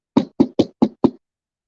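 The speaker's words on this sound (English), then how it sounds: "she knocks on the door" Five crisp knocks on a door, evenly spaced in a quick sequence, close and clear with silence after.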